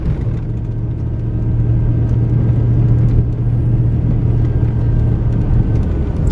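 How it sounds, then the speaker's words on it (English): A car drives up the main road of Rancho Escondido early in the morning, a steady close engine rumble and road whir holding at an even level throughout, with no talk. "We're still driving up the main road of Rancho Escondido"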